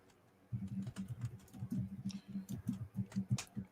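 Rapid, uneven clicking of computer keyboard keys, close and fairly soft, running continuously for a few seconds with no voices.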